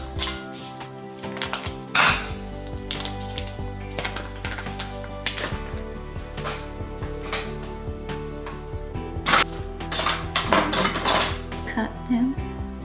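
A kitchen knife chops through tofu for a banh mi sandwich, loud close clicks and knocks on a cutting board in an uneven run, with dishes clinking around them and no speech.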